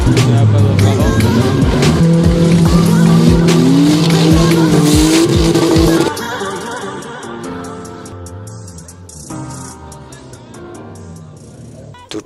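Stock cars race at Poudenx, engines revving hard as tires skid and squeal in repeated loud bursts, then the roar drops to a rougher, quieter rumble, with a voice faintly underneath.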